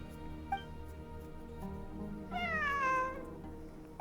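A cat in the video game Genshin Impact gives a single drawn-out meow over a steady musical background, clear and mid-distance, with a couple of soft clicks before and after.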